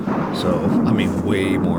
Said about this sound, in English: A little thunderstorm.